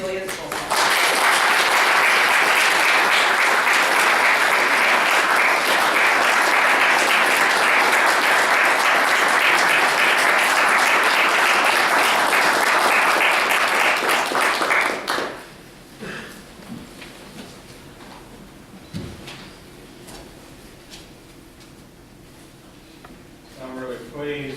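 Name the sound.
audience applause welcoming the keynote speaker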